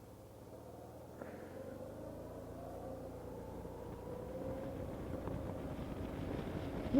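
A 2009 Honda DN-01 motorcycle accelerates at speed, its engine drone rising steadily in pitch beneath building wind rush on the microphone, with no talking.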